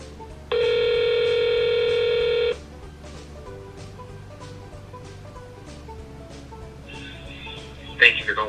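A phone call to a repair shop is placed, a loud steady tone holding for about two seconds, then quieter line noise and a higher tone pattern near the end before a brief click.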